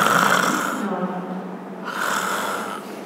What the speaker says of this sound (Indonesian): Iso ngorok itu.